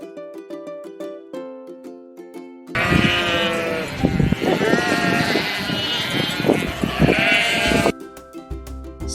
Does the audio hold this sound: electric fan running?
no